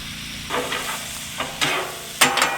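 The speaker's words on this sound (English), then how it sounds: "I wanted to stir this up a little bit" A spatula stirs food sizzling in a pan at a campground, four or so scraping strokes in an uneven rhythm over a continuous close frying hiss, with no talking.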